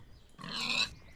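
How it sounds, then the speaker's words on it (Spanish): A pig in the Minecraft video game grunts once as it is attacked and killed, a short squealing oink that stands out alone against a quiet background. "Yo estoy matando cerdos"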